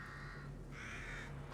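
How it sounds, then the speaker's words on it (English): Several crows caw harshly in short overlapping calls in the video game The Evil Within, set against a low steady hum. "Bunch of crows."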